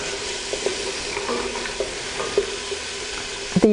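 Diced carrots going into a pan of softened, translucent onions for a tomato, chickpea and vegetable soup, giving a steady low sizzle with scattered stirring clicks and a louder clatter near the end.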